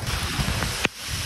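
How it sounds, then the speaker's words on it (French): Steady rain and gusting wind hiss over the microphone during an outdoor run, broad and loud throughout, with one sharp brief knock near the end. "Je suis même pas sûr que vous pouvez m'entendre là. Tellement qu'il pleut."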